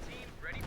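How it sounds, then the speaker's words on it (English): A Panther tank cannon fires in the Company of Heroes 2 strategy game, a single heavy boom under a continuous layer of game noise and a commentator's voice. "Panther bombarding."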